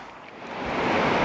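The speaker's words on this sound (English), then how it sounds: "I don't know whether you can hear that wind, but it's blowing." Wind blowing outdoors beside a garden pond: a close, rushing gust roaring across the microphone, building in loudness over about a second.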